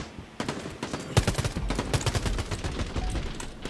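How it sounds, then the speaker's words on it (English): Rapid bursts of gunfire from the shooter game Quantum League rattle off in quick succession, sharp repeated shots that start sparse and build into steady fast strings, loud and close. "That's if I fire a bunch of bullets nowhere near them."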